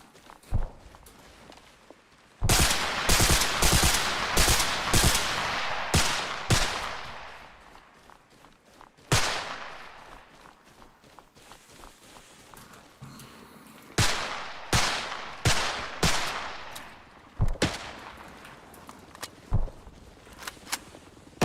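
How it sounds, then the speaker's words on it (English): Bursts of rapid automatic gunfire and scattered single shots in the military shooter Arma Reforger, loud and close, arriving in several dense volleys separated by brief quieter gaps. "Keep shooting, keep shooting."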